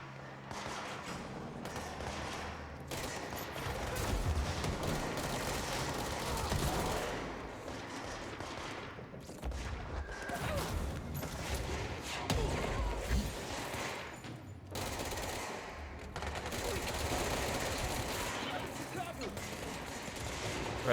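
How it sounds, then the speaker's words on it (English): Sustained gunfire in the video game Control, dense bursts and rattling volleys running almost continuously with brief gaps, fairly loud and close, while people talk over it. "Where are they firing from?"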